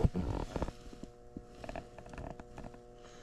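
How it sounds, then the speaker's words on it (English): Low electrical hum from a transformer inside an old Trane air handler, a steady tonal drone running under scattered clicks and handling knocks, fairly quiet and close. "you hear that humming in there?"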